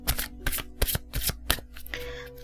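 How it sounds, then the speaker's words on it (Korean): Romance angel tarot cards shuffled by hand in quick rhythmic riffling bursts, close and crisp, a handful of distinct shuffles followed by softer sliding. "제가 여러분들 로맨스 엔젤 카드 뽑아드리도록 하겠습니다"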